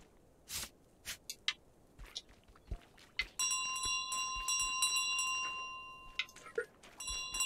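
Stolen bell in Untitled Goose Game, bright ringing tones with scattered clicks and taps. A sustained chime rings out midway and a shorter ring comes near the end.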